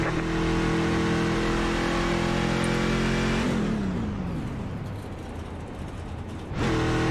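A NASCAR stock car engine in the iRacing sim at Texas roars loud and steady, its pitch dropping midway as the car lifts off, then surging back up to full throttle near the end.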